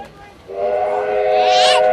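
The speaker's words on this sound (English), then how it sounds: "with the big train horn going in the background there" Close to a railway line beside a country football ground, a steam train's whistle starts and holds as a loud, sustained tone that swells and brightens toward the end.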